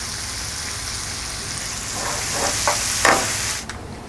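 Bacon, pesto and Parmesan sizzle steadily in a frying pan as they are stirred, with a constant close hiss and a few brief scraping knocks near the end.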